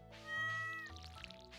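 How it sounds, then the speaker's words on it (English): A cat in the farming game Stardew Valley gives a single drawn-out meow while being petted, clear and close, with a soft rustle after it. "let's go pet the kitty catter"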